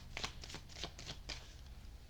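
Tarot cards being shuffled in a quiet room, a series of crisp riffling, flicking bursts in quick irregular succession, close and fairly soft, with no talking.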